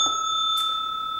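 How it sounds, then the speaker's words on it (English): A bright notification bell sound effect gives one clear ding over a steady ringing tone, alone and without talk. "Ring that notification bell"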